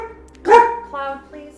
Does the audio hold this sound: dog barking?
yes